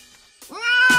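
A cat in a film gives one loud, close, rising meow that follows a few faint brief sounds.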